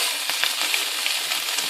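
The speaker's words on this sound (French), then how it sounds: "Alors là, je retourne ma viande et je laisse bien cuire le côté." Meat fries in a pan after being flipped, with a loud, close, continuous sizzle and a few faint crackles and pops.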